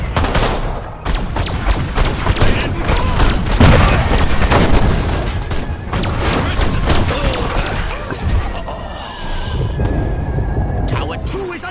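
Dense gunfire and booming impacts from an attack on a tower in Destroy All Humans!, a loud continuous barrage of rapid shots and thuds, with voices talking over it.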